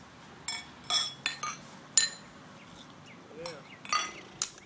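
Beer glasses clinking in a toast, several bright close chinks scattered over a few seconds, with one brief spoken word among them and a quiet room behind.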